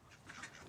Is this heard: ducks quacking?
yes